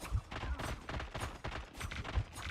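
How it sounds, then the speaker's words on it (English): Rapid gunfire from a hero shooting at the Onk in Marvel Rivals, a quick run of crackling shots with a few heavier thumps, steady and fairly close. "And now, shoot the Onk."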